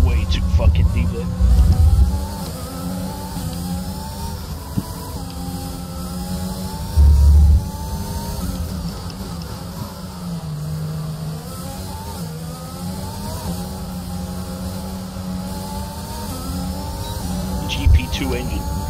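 Racing car engine from the F1 2021 video game, a GP2-spec unit, droning steadily and revving across the whole stretch with shifting pitch, while a person talks over it throughout.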